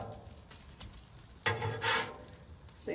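Steak and chorizo frying in oil on a Blackstone griddle give a soft, steady sizzle that swells into a louder burst of crackling partway through, then settles back.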